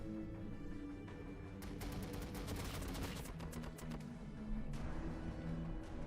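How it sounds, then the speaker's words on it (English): Units in Warhammer 40,000: Battlesector open fire: a dense, crackling spread of overlapping shots over a low rumbling battle bed, moderately loud and steady throughout. "So let's just shoot, sure."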